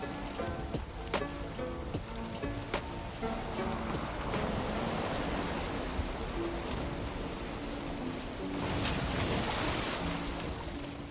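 A ship sailing on open sea in the Valheim video game, with steady wash of water and splashing waves over a soft, rain-like hiss, calm and continuous, with light musical tones now and then.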